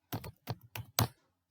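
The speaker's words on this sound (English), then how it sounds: "I'm typing here the command composer" Keys clack on a computer keyboard as a command is typed, four close, crisp taps in quick succession, the last slightly heavier, alone in a quiet room.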